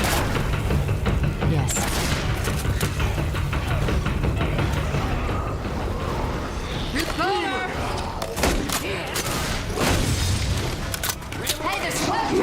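Video game gunfire crackles in dense bursts and booms throughout a hectic firefight, with loud, steady combat noise and players shouting and talking over it.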